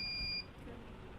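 A multimeter gives a continuity beep on the yellow wire of a switch mode power supply, a single steady high tone lasting under half a second, then low background hum.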